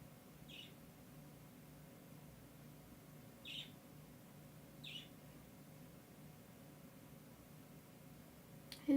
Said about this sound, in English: Who can hear my little budgie in the background tweeting away?